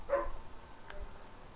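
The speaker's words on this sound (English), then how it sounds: "dog is getting on my nerves" A dog barks once, fairly faint and distant, followed by a softer second yip under a quiet room background.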